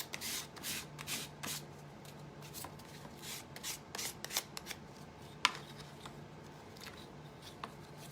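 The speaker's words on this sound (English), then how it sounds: "when I sand down and around, it's creating a crease really in that piece of paper" A paper pumpkin covered in decoupage paper is sanded down around its edges, giving soft, close scratchy rubbing strokes in short bursts with quiet pauses between them.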